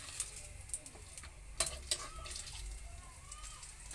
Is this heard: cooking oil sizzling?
yes